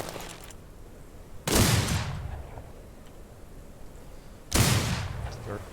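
Two gunshots in the video game Outlaws of the Old West, sharp bursts roughly three seconds apart, each trailing off in a decaying tail over a low background hum.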